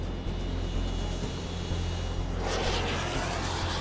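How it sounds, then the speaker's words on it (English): EA-6B Prowler and British Tornado jets preparing for takeoff on an aircraft carrier in the Red Sea at night in 1991: a loud, steady engine roar with a deep low rumble that swells brighter and harsher partway through. "2 EA-6B Prowlers and 2 British Tornadoes prep for takeoff."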